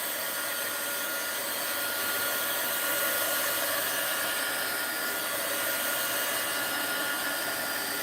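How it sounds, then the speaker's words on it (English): A heat gun drying glue on a mixed-media art journal page blows with a steady, loud, even whoosh that holds the whole time with no talking. "Heat gun alert. Let me dry this off a little."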